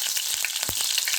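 Mustard seeds, cumin and curry leaves fry in hot oil, a loud, continuous hiss and crackle with scattered sharp pops, heard up close with no voices, while cooking a bhindi (okra) fry.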